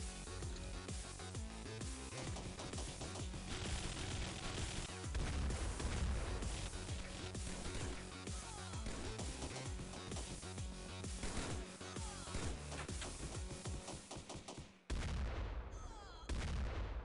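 Rapid bursts of video game gunfire from XPiratez crackle almost continuously, dense and punchy, with heavy booming shots layered in before an abrupt drop near the end and a few final blasts.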